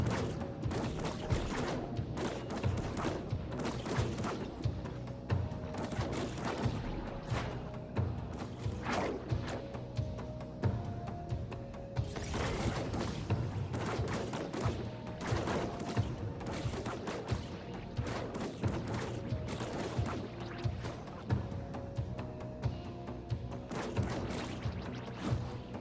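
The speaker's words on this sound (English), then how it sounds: "So we use a assault rifle" Assault rifle fire in Death Stranding 2, a steady, fairly quiet stream of rapid shots with thuds and crashes mixed in, running the whole time without pause.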